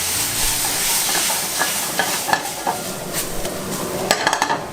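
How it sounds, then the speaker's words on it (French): Pan being deglazed with white wine while salmon-filling ingredients are stirred, a steady hiss of sizzling steam with scattered clinks and scrapes of a utensil against the pan, close and continuous. "Je vais déglacer au vin blanc"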